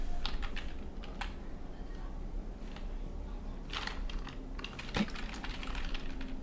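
Keys tapped on a computer keyboard while a website address is typed, a quiet, close run of irregular clicks with short pauses and one firmer keystroke near the end.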